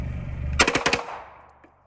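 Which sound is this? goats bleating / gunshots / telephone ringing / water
gunshots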